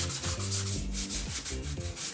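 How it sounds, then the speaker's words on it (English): Hand sanding on the wooden body of a Harley Benton CST-24 guitar kit: steady, close rasping strokes in a quick back-and-forth rhythm over a low droning background. "I just sand it too well."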